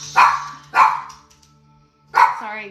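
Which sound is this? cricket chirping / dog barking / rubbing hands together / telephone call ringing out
dog barking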